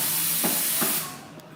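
A barista's coffee machine steams milk at a Bangkok market, a loud continuous hiss with a couple of brief gurgling pulses before it cuts off and fades to a quieter hiss.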